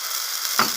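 Mung dal batter hits an oiled pan with a steady bright sizzle, close and moderately loud, with a short burst of frying crackle as more batter goes in.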